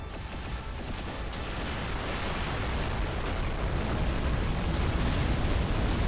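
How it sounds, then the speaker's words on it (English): Tactical missile explosions from Supreme Commander: Forged Alliance, a steady dense rumble of overlapping booms and bursts, loud and continuous with no talk. "tactical missiles, which are destroying them"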